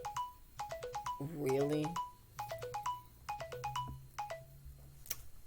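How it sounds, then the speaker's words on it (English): A mobile phone rings with a repeating melodic ringtone in bright, rapid note bursts that recur over several seconds, while a voice talks briefly over it in a quiet room. "I thought I silenced my phone."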